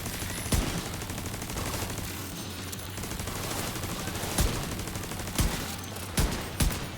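Gunfire from a pistol loaded with status effect bullets in the video game The Division 2 rattles in continuous rapid fusillades, punctuated by several sharper, louder single shots throughout, with no talk over it.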